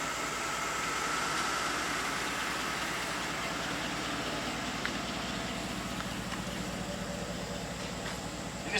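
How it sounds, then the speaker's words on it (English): A van engine idling nearby, a steady low rumbling drone with constant texture and a faint hiss, alone with no clear talk. "the van is running so that we have power steering and we have brakes"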